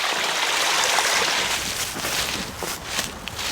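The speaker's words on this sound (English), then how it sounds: "Alright, water is going into it." Water runs steadily through a pipe into a bushcraft hot tub fed by a waterwheel, a continuous close trickling and gushing rush with no talk over it.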